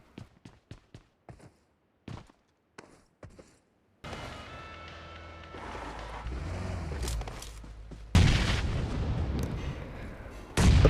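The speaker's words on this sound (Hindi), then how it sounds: "अब फ्री फायर देते हैं, क्या पता उनको गोली लग जाए।" Gunfire in Free Fire, an Android battle royale game: a run of sharp, separate shots, then continuous rumbling combat noise that grows louder, with heavy blasts near the end.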